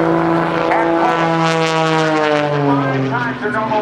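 Propeller engine of Patty Wagstaff's aerobatic airplane at the 2008 NAS Oceana Airshow, a loud, close, droning tone that slowly bends in pitch as the plane maneuvers, with an announcer talking over it.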